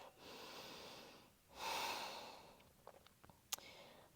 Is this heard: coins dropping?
no